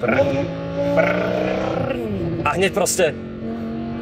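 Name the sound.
car engine revving as the driver gives throttle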